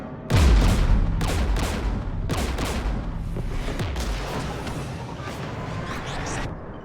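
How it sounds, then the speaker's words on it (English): Heavy gunfire from Geth anti-aircraft guns near a jamming tower in Mass Effect 3, booming blasts and rumbling bursts repeating every second or so over a dense, noisy battle din. "We're taking fire."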